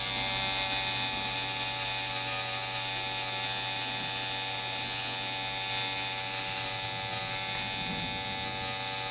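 A Ground Zero tattoo machine with shader tuning buzzes in a steady, loud electric drone with a high whine, running continuously without pause.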